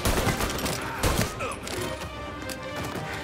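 Gunfire rattles through a gunfight in Mafia Definitive Edition, dense bursts of shots and impacts layered over a loud, busy mix that barely lets up across a few seconds.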